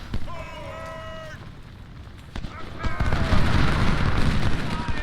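Heavy booms of artillery guns firing in the video game Ultimate General: Civil War at the Battle of Antietam, a sharp shot then a rolling rumble of distant cannon, while someone talks over the battle noise.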